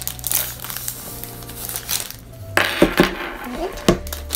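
A Disney Store paper bag from Japan, not plain paper inside, being opened and handled up close, giving bursts of crinkling and rustling with sharper crackles toward the end.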